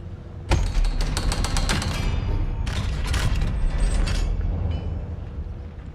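Heavy door creaking open in the video game Hogwarts Legacy, a loud, grinding wooden-and-metal groan with rapid ratcheting stutters, sustained for several seconds with a short pause midway, alone without talk.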